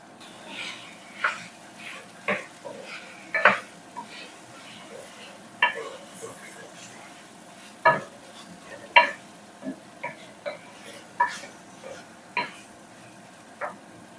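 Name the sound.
raw onions frying in a pan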